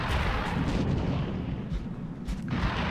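Heavy gunfire and explosive blasts from a firefight in the video game XCOM Long War, loud, booming shots in close succession over a dense rumble, with no talking.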